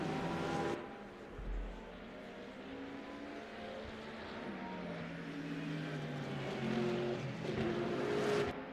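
A Porsche race car engine in the sim racing game Le Mans Ultimate at Monza, heard onboard as a continuous loud drone with rising and falling revs through gear changes.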